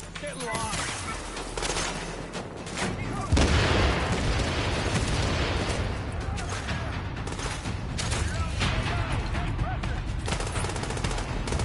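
Heavy automatic weapon fire in The Division video game, sustained bursts with booming impacts that swell louder partway through, dense and continuous with game effects layered underneath.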